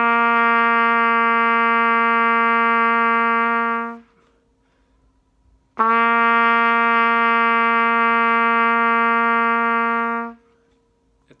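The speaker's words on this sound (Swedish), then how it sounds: "I den här videon visar jag tonen C på trumpet" A trumpet plays the note C with no valves pressed, two long, steady, clear tones separated by a short silence.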